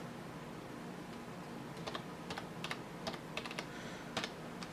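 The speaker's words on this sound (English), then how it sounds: "now I'm going to type in my super secret password" A password is typed on a computer keyboard: short, uneven runs of soft key clicks come close and alone over faint room hiss.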